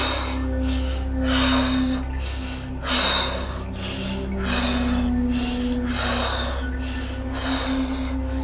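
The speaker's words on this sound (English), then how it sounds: "continuing to breathe" Slow, deep breathing during a guided meditation, with long airy inhales and exhales rising and falling in a steady rhythm over a soft sustained background tone, close and fairly quiet, with no talking.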